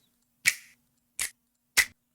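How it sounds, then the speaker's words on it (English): Three crisp R&B finger snap samples from the Sauceware Audio Sick Sh!t Vol. 1 drum kit, evenly spaced with short decays and a tiny fourth tick trailing off. "really nice R&B snaps there"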